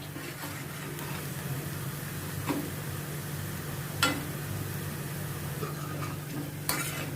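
Onions frying golden brown in a pan for egg curry give a soft, steady sizzle, with a few faint clicks of a spoon stirring against the pan.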